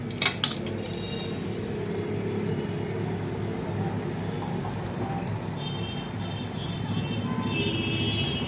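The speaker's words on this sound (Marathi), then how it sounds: "आता आपण मासे टाकूया।" Surmai fish pieces go into a simmering Malvani curry pot with a brief clatter at the start, then a steady wet sizzle and bubbling throughout.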